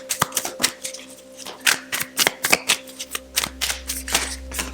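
Tarot cards being shuffled and drawn, a rapid run of crisp riffling flicks and snaps close by, irregular in rhythm, with a low steady hum running underneath.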